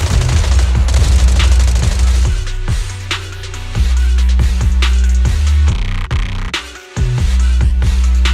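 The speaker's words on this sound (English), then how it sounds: "Gunfire? This pattern. Suppressive marching fire." Loud, sustained suppressive gunfire in the video game Zenless Zone Zero, dense rattling volleys with booming hits and a brief lull, filling the scene with no talk.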